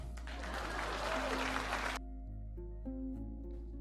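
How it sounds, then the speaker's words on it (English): A burst of applause, many hands clapping steadily for about two seconds, then it cuts off abruptly to a low hum. "Please clap."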